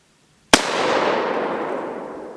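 A single sharp gunshot from a handgun fired at close range, a sudden loud crack followed by a long, fading reverberant tail with no voices.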